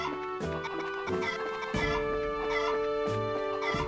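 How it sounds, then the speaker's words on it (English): Chicken clucking from the video game Trails in the Sky SC, short repeated clucks over a steady game music backdrop, moderately loud and continuous. "I would swear this is the same chicken sound as in Arpaga"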